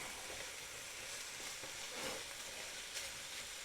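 Smoked sausage, celery and diced bell pepper sizzling in olive oil in a skillet, a faint steady frying hiss with a few soft crackles.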